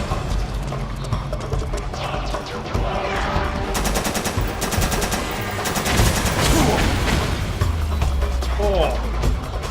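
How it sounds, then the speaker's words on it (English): An XM8 assault rifle fires in the video game Metal Gear Solid 4: Guns of the Patriots, with rapid bursts of automatic gunfire mixed into busy game noise. Voices and other clatter run throughout. "So let's pull out the XM8. Fantastic assault rifle."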